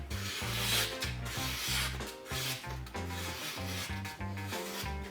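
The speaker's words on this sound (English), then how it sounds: "It has more finer sound, which tells that it is way more sharp, doing some very fine carving" A sharp knife carves fine shavings from wood in a series of short, crisp scraping strokes, close and fairly quiet, over rhythmic background music.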